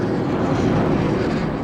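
A McDonnell Douglas F/A-18 Hornet strike fighter of the Blue Angels roars past, a loud, dense, unbroken rush of engine noise filling the short moment with no voices.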